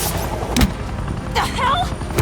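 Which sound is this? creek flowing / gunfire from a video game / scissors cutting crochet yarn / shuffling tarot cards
gunfire from a video game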